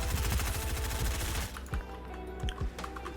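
Rapid, steady automatic gunfire from hip-fire shooting in Fortnite, a dense run of loud shots for about a second and a half, then a few scattered single shots.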